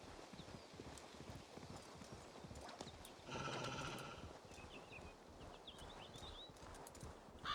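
A horse ridden in the video game Assassin's Creed Valhalla: steady rhythmic hoofbeats at a quick gait, with a short whinny-like burst midway, all faint and distant under a soft game ambience.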